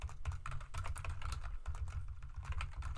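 Rapid typing on a computer keyboard, a dense continuous patter of close key clicks with brief pauses, over a low steady hum; no talking.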